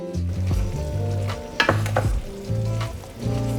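Sweet and spicy pork sauce with lime juice sizzles steadily as it cooks down in a pan, with a few brief louder bursts of frying.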